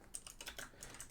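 Quick, light clatter of keys on a computer keyboard at a gaming desk, a rapid run of soft clicks with no talking.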